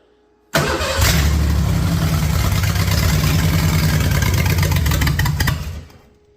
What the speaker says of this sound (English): I rotated this back and forth a couple times now, and it fires and it starts.